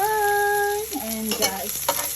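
Garlic and onion sizzle in a hot frying pan with a steady crackling hiss, broken by a few scraping stirs; a brief sustained tone sounds at the start.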